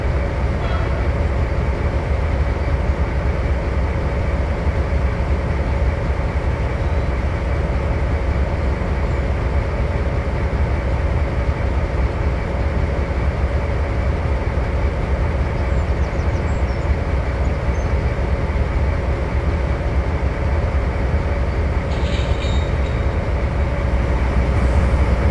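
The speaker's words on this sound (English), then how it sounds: "We'll take each locomotive one by one, accelerate them to top speed" A locomotive in a train simulator game accelerates toward top speed, a loud, steady rumble of engine and rolling stock that holds unbroken throughout, close and continuous, with no one talking.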